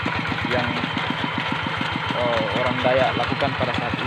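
A tractor engine runs steadily while plowing a rice paddy, its low rhythmic chugging loud and continuous throughout, with someone talking over it.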